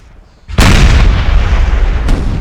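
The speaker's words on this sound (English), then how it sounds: "we will watch as this artillery over here starts to duel with the French" A single heavy cannon boom from Napoleonic-era artillery in a Napoleon Total War battle, loud and close with a rumbling tail and a faint second report near the end.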